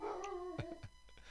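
A dog gives several short, faint barks and yips, spaced irregularly and quiet, as if from another room, with no voices.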